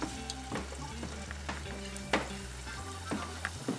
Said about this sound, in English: So we're ready to start frying the egg rolls.